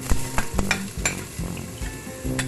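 Onion, garlic and ginger fry in a pan for pork adobo, sizzling steadily while a utensil scrapes and clacks against the pan in repeated stirring strokes, close and moderately loud.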